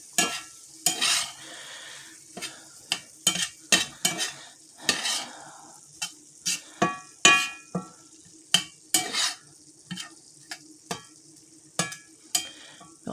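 Onions cooking in a pan on a low burner, a soft steady sizzle under repeated close scraping and tapping of a utensil stirring against the pan, in uneven bursts.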